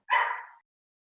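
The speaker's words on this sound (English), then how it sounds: "listen to some doggies bark" A single short dog bark, sharp and fairly loud, heard alone with silence after it.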